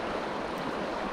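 Water rushing steadily along a creek beside a wood line, a dense, continuous close wash with no pauses.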